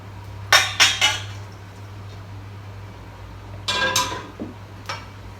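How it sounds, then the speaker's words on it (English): Cooked vegetables for vegan spring rolls being transferred into another bowl: a few sharp clinks and scrapes of a utensil against a dish in two clusters, over a low steady hum. "So I'm just going to transfer it into another bowl so it cools a little bit quicker."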